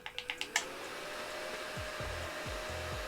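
A mini handheld fan whirs steadily and close by, its motor drone holding throughout, with a few sharp taps at the start and soft low thumps further on.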